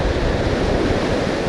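Loud, close ocean surf on a California beach during surf fishing, a dense roaring wash of breaking waves mixed with wind buffeting, continuous and without any voices.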